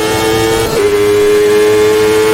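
A race car engine in Automobilista 2 drones loudly and steadily on an oval, its pitch dipping once briefly before settling into a constant high hum.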